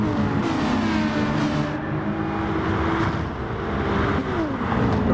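A Ford Mustang race car drives hard through a corner, its engine droning loud and steady with shifting pitch as it holds speed, no talk over it.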